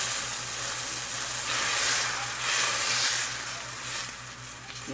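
Food frying in a pan while cooking malawax, a steady, even sizzle and crackle with no talk over it, holding at a constant loudness throughout.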